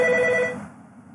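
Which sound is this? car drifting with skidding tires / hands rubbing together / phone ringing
phone ringing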